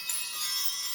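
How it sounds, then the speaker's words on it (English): Sarah Dole fairy bells shimmer with a high, sustained metallic ringing that starts with a light strike and hangs evenly for a second, soft and alone. "These are fairy bells by Sarah Dole."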